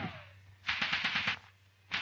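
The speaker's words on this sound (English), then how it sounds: "The covering section on Scrubby Hill opens rapid fire." Rapid rifle and machine-gun fire from a covering section in a WWII British Army infantry platoon attack drill, sounding as a dense volley of sharp cracks for about a second, then another burst starting.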